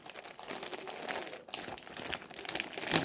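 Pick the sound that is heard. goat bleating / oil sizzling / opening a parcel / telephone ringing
opening a parcel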